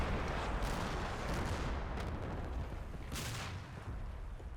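Artillery barrage in the Combat Mission: Battle for Normandy wargame, a dense continuous rumble of overlapping blasts and booms, loud and sustained with a couple of sharper bursts.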